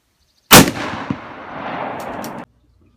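A single loud, close gunshot from a .348 rifle during bullet testing outdoors, a sharp crack followed by a long rumbling echo that rolls for about two seconds before cutting off.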